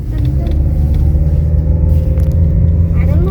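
Car engine rumbling steadily from inside the cabin during a driving practice session on a road in Trabzon, Türkiye, with a continuous low drone and people talking over it.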